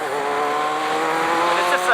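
A Kawasaki ZR-7 motorcycle with a carburetor is ridden on the road, giving a loud, continuous engine drone that climbs slightly in pitch as it pulls.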